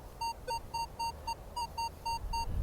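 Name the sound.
Minelab Vanquish 540 metal detector high tone signal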